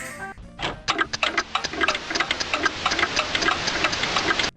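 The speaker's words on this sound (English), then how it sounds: "when you open the doors to the static, you can also hear the sound of a clock ticking" A clock in a childhood horror video game ticks steadily, a close run of evenly spaced sharp clicks over a faint eerie background hum.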